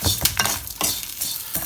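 Curry leaves sauté in a pan for a Tamil thuvaiyal, with intermittent stirring scrapes and soft sizzling in short bursts, close and moderately quiet, no talking.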